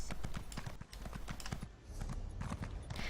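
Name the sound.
horse hooves walking in The Elder Scrolls Online video game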